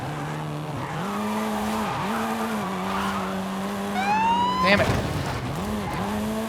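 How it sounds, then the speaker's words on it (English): Volkswagen Golf R, seventh generation, drifting in Forza Horizon 5 with a steady droning engine note that dips and rises and a sharp burst of tire squeal near the end. A voice speaks briefly over it. "I just need one long ass drift, essentially."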